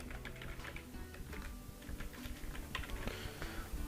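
Fast keystrokes clatter on a computer keyboard as a land-cover class name is entered, with irregular close clicks filling the short stretch and no voices.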